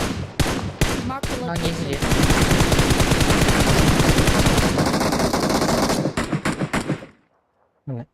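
Loud, close automatic gunfire in PUBG Mobile, with an enemy player shooting while prone. A few separate shots lead into a long continuous rattling burst, then scattered trailing shots, a pause and one last crack, with a brief voice under it.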